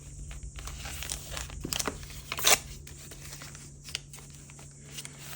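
Paper being torn and crinkled while making a grungy journal page, with a few short rips and one louder tear rising over a low steady hum, close by.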